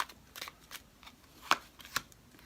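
Tarot cards are shuffled and drawn by hand during a Libra reading. Soft, quiet riffling swishes are followed by two crisper card snaps close by, with no voices.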